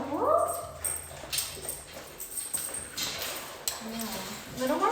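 Dogs wrestle and play in a training class, with scuffling, yips and whimpers mixed under a person talking throughout.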